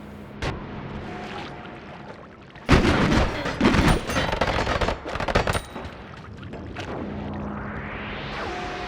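Rapid gunfire and bursting blasts from a companion shooting at enemies in the pixel-physics game Noita, a loud cluster of cracks and booms in the middle with quieter rumbling effects before and after.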